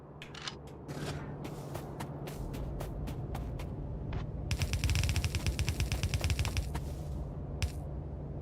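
A Factorio gun turret, freshly loaded with ammo, rattles off rapid bursts of fire; scattered sharp shots give way to a dense, fast stream of rounds in the middle, heard over a low, steady factory hum.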